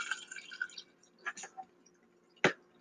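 Pasta water drains from a pot over a strainer during a one-pot roasted red pepper chicken farfalle meal: a short rush of pouring liquid, then scattered drips and splashes, ending with a single sharp clunk.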